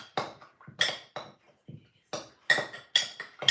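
A bread starter is stirred in its container with a utensil, producing a steady series of scraping, clinking strokes against the sides, fairly close and repeated about every half second with short pauses.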